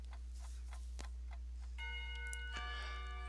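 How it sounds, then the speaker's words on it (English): A school bell rings in the visual novel Katawa Shoujo, a sustained bright metallic ringing with steady overtones that starts partway through, over a constant low hum and a few earlier soft ticks. "When the final bell sounds"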